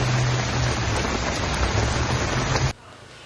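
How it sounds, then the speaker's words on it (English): Heavy rain pours down hard over a parking lot in a loud, dense, continuous hiss that stops abruptly near the end. "How hard the rain was coming down"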